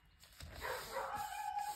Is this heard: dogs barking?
yes